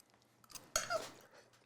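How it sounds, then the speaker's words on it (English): Crunchy asparagus chewed close up, a few quiet crisp bites with one sharper crunch in the middle, no talking. "Still got the crunch in the asparagus."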